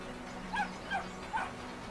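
A dog in the video game Brothers: A Tale of Two Sons, let out of its enclosure, gives three short, yelping barks at a fairly even pace over a quiet game background.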